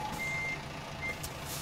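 Truck reversing alarm beeping steadily while a trailer is hooked up in American Truck Simulator, the tones sounding over a constant engine hum with no talking.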